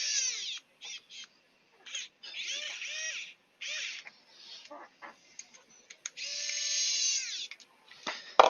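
A power driver whirs in repeated bursts while running screws into a Prusa MK3s+ 3D printer frame. Some bursts are short blips and others are longer runs, all close, with no talk.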